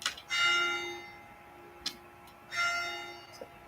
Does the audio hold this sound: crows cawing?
no